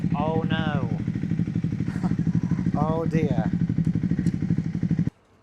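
Triumph Scrambler motorcycle engine idling steadily with a low, even pulse throughout, close by, under a voice speaking briefly, cutting off abruptly at the end.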